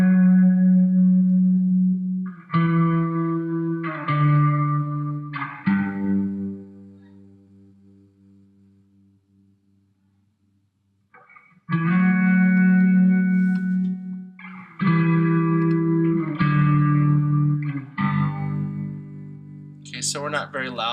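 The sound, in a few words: electric guitar played through effects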